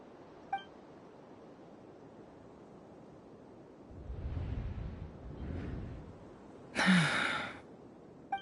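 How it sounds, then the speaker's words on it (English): A female video game character lets out a short, sharp gasp near the end, standing out clearly above a quiet background with faint breathy rustles and a soft click at the start. "I heard Yehuda gasp"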